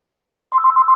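A telephone rings during a live home broadcast, beginning halfway through with a steady electronic warble pulsing in quick, even bursts, close and fairly loud, with no talking over it.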